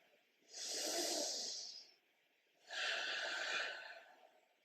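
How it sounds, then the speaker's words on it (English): Two deep, slow breaths during a yoga inversion exercise, each a long airy rush lasting over a second with a quiet pause between, close and fairly soft with no talk. "And breathe."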